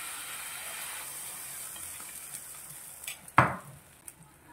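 Egg batter for egg paratha sizzles in an oiled frying pan, a low continuous hiss broken by a sharp utensil clack and a scrape of the pan toward the end, close and without talking.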